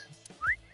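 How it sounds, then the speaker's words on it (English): A short rising wolf whistle from a character in the video game Ai: The Somnium Files, a single quick upward-swooping tone over a faint, quiet game background. "I thought I told you to stop with the wolf whistles"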